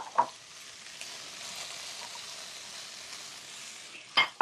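Cauliflower and other vegetables fry in a pan, giving a soft continuous sizzle heard fairly close, with a couple of sharp clinks of a utensil being stirred against the pan near the start and end.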